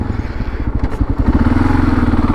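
A motorcycle pulls away up close, its engine chugging in a steady, loud rhythmic pulse that climbs slightly in pitch as it gets going.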